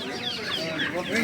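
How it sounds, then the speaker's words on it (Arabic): Rooster at a Qatar poultry market clucking repeatedly amid a busy bird-filled backdrop, with people talking faintly nearby. "جدعان الديك ده اغلى من الرومي"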